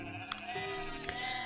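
A sheep in the farming-nature video game Equilinox gives a short, faint bleat that is blended into background game music.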